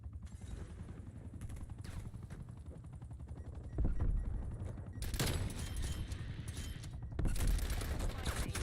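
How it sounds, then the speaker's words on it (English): Rapid gunfire bursts from the video game Call of Duty: Cold War crackle over a continuous engine-like drone, with louder volleys toward the end. "I missed those shots."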